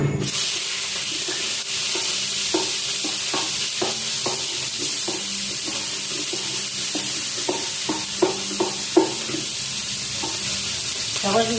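Food fries and is stirred in a pan, with a constant sizzle beneath a series of rhythmic utensil taps and scrapes, some louder clacks near the end.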